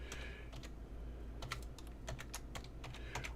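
Code for an Arduino LED-blinking program is typed on a computer keyboard, producing irregular bursts of crisp, close keystroke clicks separated by short pauses.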